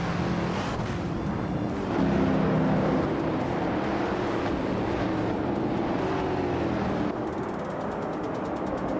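Race cars in a racing video game run nose to tail in a close fight for position, their engines a loud, steady, continuous drone with no breaks and no voices.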